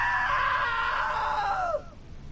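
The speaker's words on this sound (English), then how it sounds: "Now that was a great scream." A woman's long, loud, high scream in the video game What Remains of Edith Finch, held steady for nearly two seconds before falling in pitch and cutting off into quiet background.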